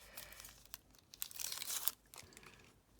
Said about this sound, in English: We'll peel this protective sheet